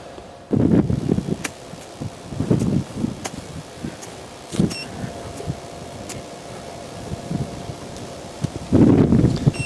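Wind gusting across an outdoor golf course during a matchplay championship, buffeting the microphone in rough low rumbles that swell near the start and again at the end, with steady blowing noise between.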